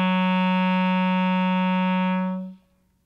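A single sustained low G-sharp on a clarinet, steady and clear with a rich, reedy tone, held close and alone for over two seconds before it stops.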